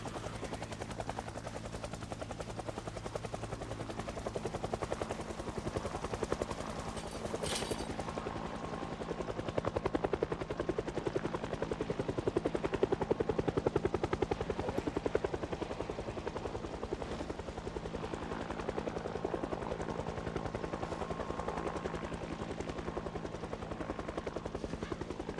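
Helicopter in the video game Project Zomboid flying overhead, a steady continuous rotor drone that swells slightly toward the middle and holds loud throughout.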